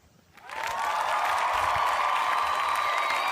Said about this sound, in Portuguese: Aplausos, galera!